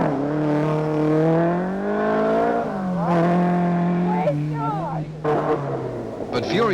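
Rally car in the 1974 Southern Cross Rally driving flat out, engine note climbing and shifting close by, with tyre noise and a commentator talking over it.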